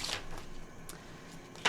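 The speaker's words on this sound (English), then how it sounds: "Last shuffle." A deck of tarot cards is shuffled in quick, soft riffling bursts, close and quiet, ending with a sharper snap of cards.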